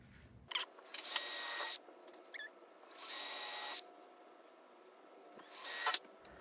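A power drill pre-drills screw holes in wood furniture, running in three loud whirring bursts separated by brief pauses, close and alone with no talk.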